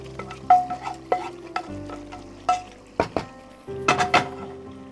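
Chicken sizzles in a pan with butter and spices while a spoon stirs it, giving repeated scraping and clanking strokes over a steady fry, close and clear.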